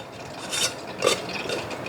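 A metal jar lid with a rubber seal is screwed on by hand, giving a few short, close scraping and clicking twists.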